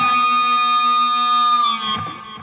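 An electric guitar plays a pinch harmonic on the second fret of the G string with a whole-step bend, imitating a horse's whinny: one loud, bright, sustained squealing note that bends and then fades.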